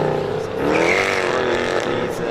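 A Mercedes car drives a rally stage on the Strathalbyn town stage, engine tone rising and shifting in pitch as it revs past, loud and near, with talk mixed in over it.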